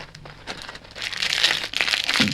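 A small plastic bag from a lock package crinkled and rustled by hand nearby, rising into busy, loud crackling bursts.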